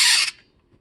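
A Transformers Armada Unicron toy's battery-powered play feature gives a short loud electronic fizz, a bright hissing burst lasting about a third of a second, then cutting off to near silence.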